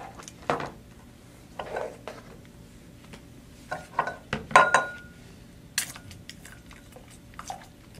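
Soft clinks and knocks of a glass-tipped HI 9813 soil meter probe being rinsed and handled, a handful of irregular taps and splashes over a quiet background.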